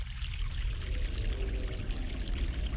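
Steady rushing flow of a fresh mountain stream in the game The Longest Journey, continuous broadband water noise throughout, close and fairly loud, with no talking.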